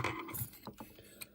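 Ratchet screwdriver driving heatsink screws into a Nintendo GameCube during a PicoBoot install, a close run of quick mechanical clicks with short pauses between them.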